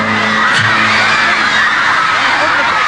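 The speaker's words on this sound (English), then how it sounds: "All these fans going wild and screaming" A packed crowd of fans at a concert screams and cheers in a continuous loud roar of high-pitched shrieks and whoops, sustained throughout with no pauses.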